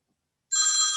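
A phone rings with a bright, buzzy electronic tone that cuts in abruptly from silence and holds steadily, close and clear, during a school board meeting.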